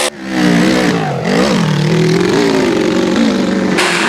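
An open-class motorcycle engine revs hard on a hillclimb run, loud and close, its pitch rising and dipping as the rider works the throttle, with an uneven, struggling moment early on before it holds a steady high drone.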